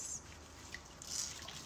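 Water drips and trickles softly while a toy without an electronic base is washed, with a few close, faint splashes and drops and no talk.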